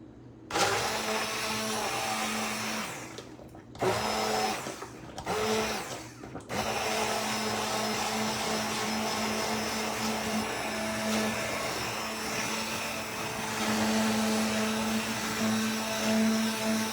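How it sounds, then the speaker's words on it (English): An immersion blender whirs steadily through soft boiled potatoes with liquid in a home kitchen, a loud continuous motor drone broken by a few brief stops and restarts early on, then running unbroken. "This isn't the best immersion blender"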